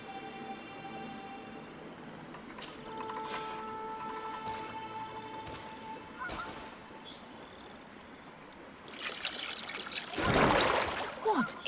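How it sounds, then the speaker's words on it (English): A potion is poured onto a stone altar in Greedfall, heard as a short splashing, trickling burst near the end after quiet ambient tones and faint chimes. "That must be where we need to pour the potion."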